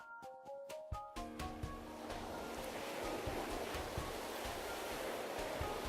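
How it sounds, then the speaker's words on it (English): Water rushing in, in the game Amnesia: Memories, opening with a few chiming musical tones before a steady, fairly quiet surging wash of water settles in and continues unbroken. "Water's flowing in."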